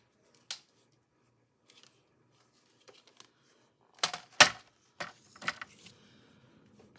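Scissors snip through material in a few sharp, close cuts, a single quick snip first and then a cluster of crisp cuts with small rustles, otherwise quiet with no talking.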